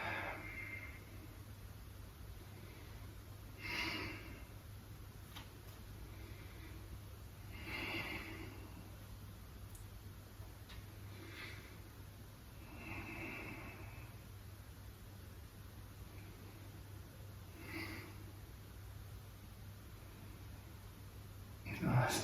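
Slow, deep yoga breaths repeat every four to five seconds, soft airy inhales and exhales close to the microphone over a steady low hum, with faint speech in the background.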